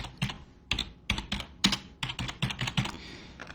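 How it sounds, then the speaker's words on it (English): Rapid typing on a computer keyboard, clustered bursts of sharp key clicks in an irregular rhythm, close and fairly quiet with no talking. "So I'm just going to type that in there."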